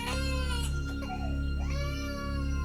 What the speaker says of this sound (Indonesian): Dengar kayak suara bayi nangis,